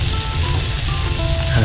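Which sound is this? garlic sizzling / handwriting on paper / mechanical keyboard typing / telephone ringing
garlic sizzling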